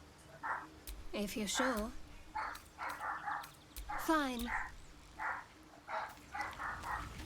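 Small dog in Baldur's Gate 3 barking and yipping repeatedly in short bursts, fairly close, with a voice speaking briefly between the barks.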